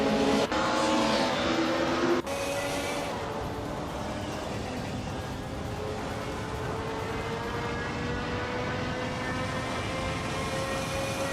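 Racing cars, among them a 1990 Mercedes 190E Evo 2, roar steadily through a video game race, with a continuous engine drone and shifting rev tones, loud at first and then holding an even level.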